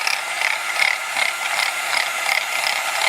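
An electric mixer running on a single beater whirs steadily as two eggs are beaten into pancake batter, giving a continuous, fairly loud buzzing rattle with a slight pulsing rhythm throughout, and no talking.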